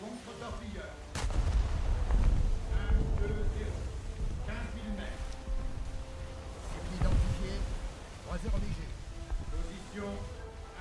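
Battleship main guns fire in a naval video game, heavy booming reports rolling out at intervals over a dense background rumble of engines and sea, moderately loud and repeating several times.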